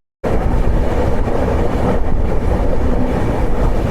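The Agartala–Sealdah Kanchanjunga Express at NJP station gives a loud, steady rumble that starts abruptly and carries on with a rolling, rattling roar.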